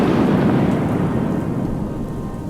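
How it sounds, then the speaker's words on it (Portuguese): Loud, close thunderstorm with heavy rain, a deep rolling rumble over dense steady rainfall that slowly fades. "Esta tarde a trovoada caiu pelas encostas do céu abaixo."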